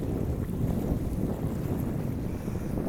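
Strong wind buffets the microphone outdoors by the sea, a steady low roaring rumble with the wash of waves beneath it, loud and continuous with no talk.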